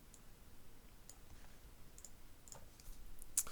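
Calculator keys are tapped in a quiet room, a handful of faint, sparse clicks spaced irregularly, with one sharper press near the end.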